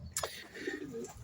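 Pigeons kept as race birds and breeders coo in a loft, a short soft low cooing call close by with faint rustling, no talk.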